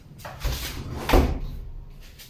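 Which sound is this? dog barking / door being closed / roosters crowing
door being closed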